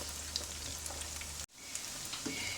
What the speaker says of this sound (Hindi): ये मेरा सारा चिकन तकरीबन फ्राई हो गया है और गल भी गया है